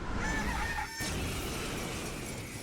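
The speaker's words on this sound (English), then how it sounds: "Why does it sound like a chicken?" A video game creature gives a chicken-like crowing cry over a dense, steady game soundscape, with a sharp crack-like burst partway through.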